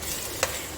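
Minced meat (keema) fries in ghee over a medium flame, giving a steady, soft sizzling hiss with a single brief tap partway through.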